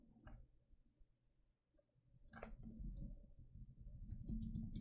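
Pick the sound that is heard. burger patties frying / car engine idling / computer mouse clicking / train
computer mouse clicking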